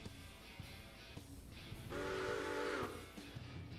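A locomotive whistle in the train game Railroader sounds one steady, tonal blast of under a second, rising out of a continuous rumbling background, fairly faint overall.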